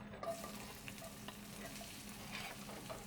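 Meat sizzles in a little vegetable oil on a stove, giving a steady low crackle with faint stirring scrapes throughout and no voices.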